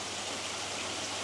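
Water splashes steadily into the shower tray of a koi pond filter, a dense, constant rushing close by, with no voices.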